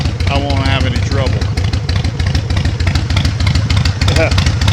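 A motorcycle engine labours to turn over after sitting all winter, a loud, steady, close mechanical churning that continues throughout, with a voice talking over it.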